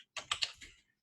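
Brief burst of typing on a computer keyboard, several quick close key clicks in a short cluster, then quiet.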